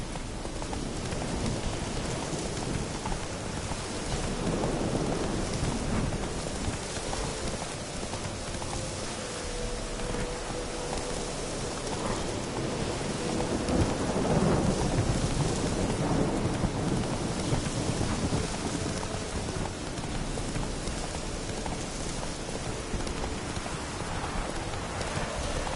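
Heavy, steady rain pours during a thunderstorm in The Witcher 3, with deep rolling thunder swelling through the downpour and faint horse hoofbeats underneath.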